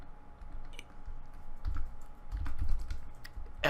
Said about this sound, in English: I will be typing to my friend Jake